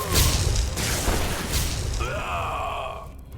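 Fire spitter weapon firing in Enderal, a series of heavy booming blasts with rumbling low end, followed by a whooshing, wavering tonal sweep as the shot trails off, loud and close.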